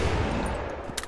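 Sustained, loud automatic fire from an M4 rifle in a wave-survival shooter game, a dense unbroken roar with a sharper crack near the end and no voices.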